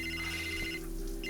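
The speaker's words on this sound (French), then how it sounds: "Il y a ton téléphone qui sonne." A mobile phone rings indoors in a telenovela scene, a steady electronic ringtone with repeating bright tones that pause briefly and then resume, fairly close and clear with no talking over it.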